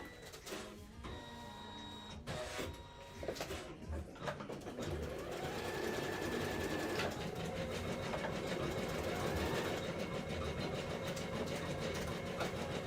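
Sewing machine stitching, with a few short clattering bursts at first, then a longer continuous mechanical run of close, steady whirring and rattling.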